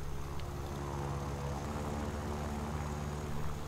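The propeller engine of a Yak-1B fighter plane in War Thunder drones steadily with a constant, loud buzzing hum and no breaks.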